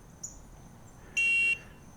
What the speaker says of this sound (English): Next, we have our horn